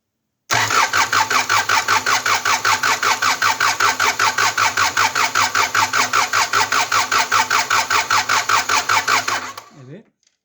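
A car engine running just after its injector was changed, loud and close with a steady, rhythmic loping pulse for about nine seconds before it cuts off abruptly.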